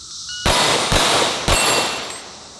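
Three sharp pistol shots from a race gun at a shooting range, loud close cracks about half a second apart, each trailing into a fading ring.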